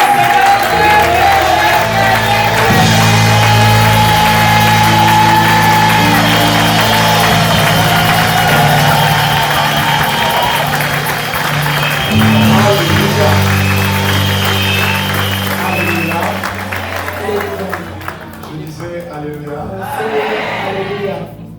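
Congregation at a church service cheering and applauding the Lord, a loud continuous crowd roar with clapping and music-like sustained tones, fading somewhat toward the end.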